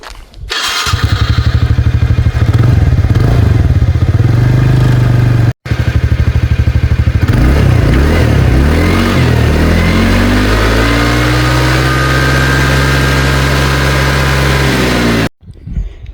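A TVS Ntorq scooter's exhaust roars loud and close as the engine is revved repeatedly, the pitch climbing and falling through several throttle blips, with a brief cut partway through.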